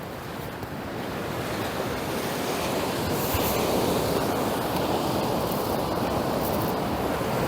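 Tide waves washing at the shore at Ballycastle, a steady broadband rush with wind, swelling slightly and continuing throughout with no voices.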